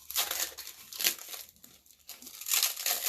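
Dollar Tree deco mesh crinkling as it is pulled off a heart wreath, close and crisp in several rustling bursts with short pauses, no voices.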